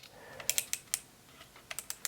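The adjustment lever on a Lo Pro FXONE hair clipper clicks, small sharp ticks in two quick clusters, close and fairly quiet with no talk.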